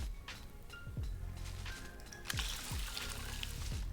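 Watering plants in the video game Weedcraft Inc, a soft steady pour of water with trickling, several short swooping blips and clicks over it.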